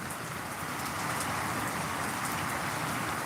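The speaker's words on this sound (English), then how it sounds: "There's so much rain falling behind us right now as well." Dense, steady hiss of heavy rain falling outdoors, a constant close wash of drops with no pauses.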